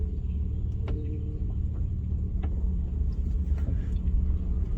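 A car engine rumbles low and steady from inside the cabin while driving, with a few faint clicks and rattles over the continuous drone and no one talking.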